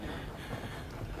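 Steady low engine throb of the steamship Macedonia passing at sea, a faint continuous rumble with wind and water wash, no voices.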